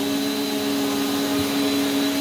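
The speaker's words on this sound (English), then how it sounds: "then I'll vacuum" Prolux CTX water-filter vacuum cleaner running indoors, a steady loud motor drone with a constant whine and no change in pitch.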